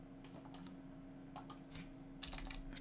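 Quiet typing on a computer keyboard, a few sparse clusters of key clicks over a steady low electrical hum.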